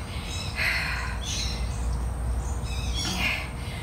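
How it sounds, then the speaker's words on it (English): Agitated bird calls from birds squabbling outdoors, with sharp squawks and screeches in a few bursts over a steady low background hum. "Birds are fighting."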